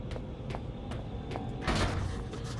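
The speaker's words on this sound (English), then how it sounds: "Door won't open and there doesn't seem to be a lock." A locked door in Penumbra: Black Plague rattles in a few sharp, separate clacks spaced about half a second apart, ending in a louder scrape over a steady background hum.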